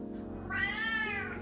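A cat gives a single clear meow, close and fairly loud, over a faint background hum.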